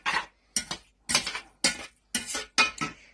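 A utensil stirring beefaloni in a metal pot, six distinct scraping, clinking strokes in a steady rhythm, close and clear with brief silences between.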